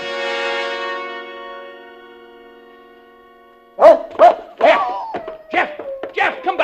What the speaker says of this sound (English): Jeff, you fool dog, come back here.